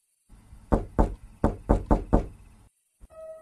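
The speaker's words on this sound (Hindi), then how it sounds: "दरवाजे पर दस्तक हुई" Six sharp knocks on a house's main door at midnight, loud and close, in an uneven rhythm of two then four, followed by a brief quiet and a faint tone.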